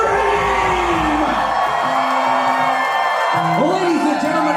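Wedding guests scream, whoop and cheer together as a loud, sustained crowd roar, with individual shouts and whoops rising over the din throughout.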